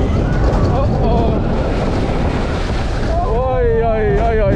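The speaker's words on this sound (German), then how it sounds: "Das war eine Wasserwelle. Monsterwelle." Water crashing over riders on a Walibi Belgium roller coaster, a loud continuous rush of splashing and wind close to the microphone, with excited voices shouting and wavering over the noise near the end.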